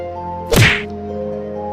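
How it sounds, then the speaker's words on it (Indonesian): A single heavy whack lands on Sakura's head, a loud close thunk over a steady low hum. "bunyi pukulan jatuh ke kepala Sakura dan seketika Sakura pingsan"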